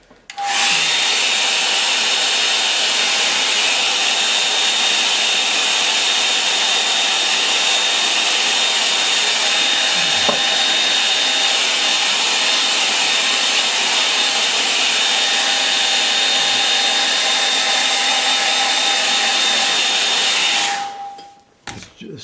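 A hair dryer blows steadily and loudly on a watercolour painting for about twenty seconds, a continuous whirring rush with a faint whine, then cuts off abruptly near the end.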